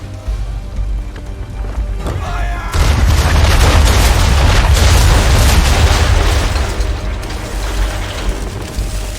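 Naval cannon volley in the Assassin's Creed III video game, a loud booming burst after a brief mechanical clatter, then a sustained roar of impacts and splashes that slowly fades.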